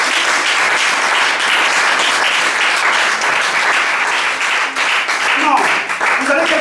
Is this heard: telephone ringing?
no